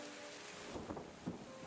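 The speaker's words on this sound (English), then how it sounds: "You're finally getting out of the rain a little bit." Steady rain ambience for a tabletop horror game session, a dense even hiss with low rumbling swells like distant thunder or wind, with no voices.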